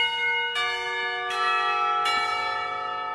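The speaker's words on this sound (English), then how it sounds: "Westminster chimes, and it's the half." A bell tower rings Westminster chimes for the half hour: three loud, ringing bell strikes about three-quarters of a second apart, each leaving a long, resonant hum, with no talking.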